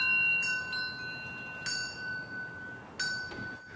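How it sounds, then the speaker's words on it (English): Small Swiss bells hung on a swaying art mobile ring out in a few bright, sparse strikes with long shimmering decay, quiet and close. "I came with this idea of using the Swiss bells"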